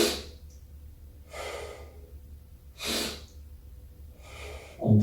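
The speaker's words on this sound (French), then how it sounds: "je fais donc ma respiration inversée, thoracique, en rentrant le ventre" Reverse thoracic breathing with the belly drawn in: three strong, airy breaths, each a sharp inhale or exhale a second or so apart, with quiet pauses between, close to the microphone and with no speech.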